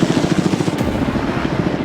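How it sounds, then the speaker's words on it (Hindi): A helicopter hovers close overhead while lifting people above the sea by a private island, its rotor thumping in a fast, steady, loud pulse over a constant engine roar. "ये हेलीकॉप्टर हमारे बॉयज को ऊपर हवा में ले जाएगा"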